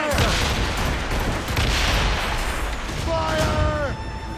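Ship cannon fire in a naval battle in Assassin's Creed Rogue, a loud rolling barrage of booms with shouted voices mixed in. Creaking, whistling tones rise near the end.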